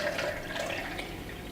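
Prop milk being poured, a close, steady liquid trickle and splash with a bright watery gurgle running continuously for a moment.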